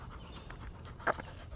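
A dog pants faintly and steadily outdoors on a walk, low against a background hum, with one brief brighter yelp-like sound near the end.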